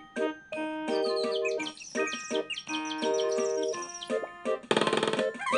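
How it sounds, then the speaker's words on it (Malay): Small bird chirping in quick, tonal bursts with repeated whistled notes, fairly close and clear, ending in a brief noisy rustle. "Burung kecil tu datang lagi."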